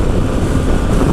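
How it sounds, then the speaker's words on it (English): Steady roaring wind buffeting while riding a 2025 Harley-Davidson Pan America ST motorcycle, a continuous loud broadband rush that covers the engine almost entirely. "I absolutely hear very little of the engine noise. It's mostly just wind"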